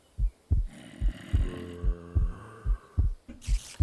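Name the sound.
heartbeat sound in video game Minecraft (MC Eternal)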